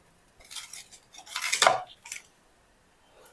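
A knife cuts a toasted bread cheese sandwich into triangles on a plate, producing a few scraping, clinking strokes close by, with the loudest cut in the middle and a short faint tap at the end.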